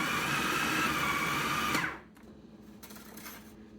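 Food processor grinding gyro meat, a loud steady whirring motor running for nearly two seconds before cutting off abruptly and leaving only faint room noise.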